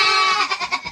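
A goat on a snowy North Idaho homestead gives one short, close, nasal bleat that wavers in pitch as it trails off.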